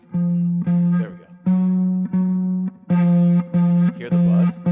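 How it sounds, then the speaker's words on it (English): An electric guitar with fret buzz, the 11th fret of the low E string plucked repeatedly: sustained steady notes with a rattling buzzy edge, about eight separate plucks in a regular rhythm, close and fairly loud. "It buzzes on that 11th fret of the E string."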